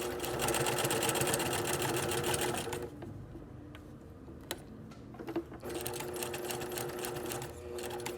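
A sewing machine stitches a pocket flap in a rapid, steady mechanical whir, stops briefly with a few clicks, then runs again for a back stitch.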